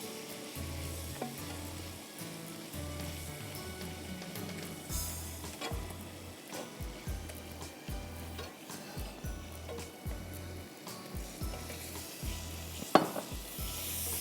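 Vegetables sizzle and fry in a hot pan on high heat, loud steady crackling with repeated scraping and clatter of a utensil stirring against the pan.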